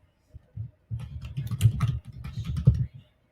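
Quick typing on a computer keyboard: a short tap, then a steady run of soft close keystrokes in a brisk rhythm, pausing briefly before a final burst, with no voice over it.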